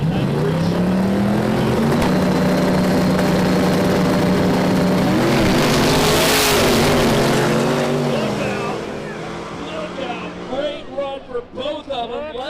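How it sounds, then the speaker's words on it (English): Turbocharged 1993 Chevy drag race car at a no-prep event roaring loud and close as it launches, a sustained engine howl with rising and shifting pitch that fades after about nine seconds into crowd noise, with a commentator talking over it. "So the 565, a turbo car for that 93 Chevy."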